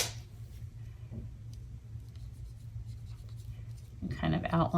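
A marker strokes steadily across paper as a stamped leaf is colored in Calypso ink. The soft scratchy scribbling goes on under a low hum, and a voice speaks near the end.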